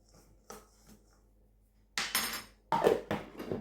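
Utensil scraping and clinking in a bowl while a level teaspoon of dried mustard powder is combined into a traditional cheese straw mixture, a few faint taps early then louder bursts of stirring near the end.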